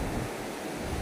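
Sea waves washing onto a beach, a steady wash of surf with wind buffeting the microphone, continuous and fairly loud with no voices.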